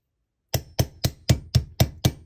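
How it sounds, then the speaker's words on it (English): Armorer's hammer tapping a pin into a 1911 pistol held in an armorer's block, seven sharp, evenly spaced metallic taps close up, with no talk. "we're going to use our armor's block and our armor's hammer"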